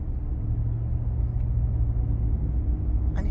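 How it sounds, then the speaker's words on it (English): A jeep and a truck roll past in a steady, loud low rumble of engines and tyres that holds for the whole stretch, with a brief faint high clink near the end. "A jeep and a truck."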